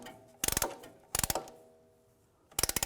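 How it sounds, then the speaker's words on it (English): A compressing tool ratchets a brake caliper piston back into its bore during front brake work on a 2004-2010 BMW X3, with three separate bursts of rapid, close mechanical clicks and quiet pauses between them. "We're going to compress that piston. Just use a compressing tool."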